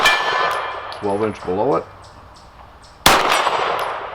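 9mm 115-grain Fiocchi rounds from an HK USP Expert pistol strike steel gong targets at 50 yards, giving two sharp ringing clangs about two seconds apart, with someone speaking briefly between them.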